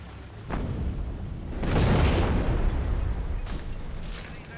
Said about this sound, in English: Stu just dropping the bomb on the infantry